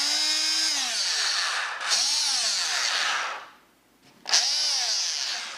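A Ridgid Jobmax oscillating multi-tool digs grout out of tile joints with a loud, close, high buzzing whine whose pitch dips and rises as it bites. The tool cuts out briefly, then starts up again.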